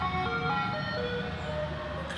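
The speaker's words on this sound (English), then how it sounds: "It's an ice cream truck." An ice cream truck plays its jingle on a main road, the tune steady and continuous over the low rumble of traffic, with no voices over it.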